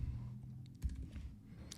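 Quick, soft keystrokes on a computer keyboard, a brief flurry of light clicks heard up close over quiet room noise.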